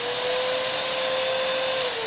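A Hoover Nano-Lite compact bagless vacuum cleaner runs steadily, a loud, close, continuous whirring roar with a sustained motor whine and no break.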